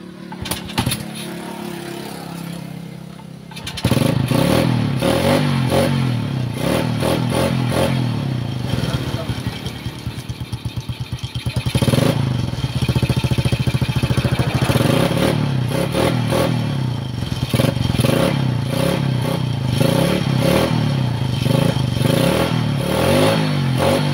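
A Honda XRM 110 motorcycle engine, stalled with a fuel supply problem at the carburetor, starts after a few seconds of quiet and then runs at a loud, steady idle with uneven revving throughout.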